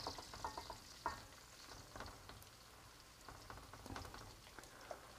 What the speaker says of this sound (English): So we ladle it out into a pancake shape.